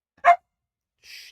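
A dog gives one sharp, close bark in a quiet room during a live football watch-along, followed a moment later by a faint, brief high hiss.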